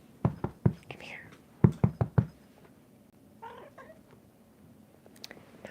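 A pet cat is heard nearby with soft meow-like calls amid a cluster of sharp taps and knocks, while a person whispers quietly in the background.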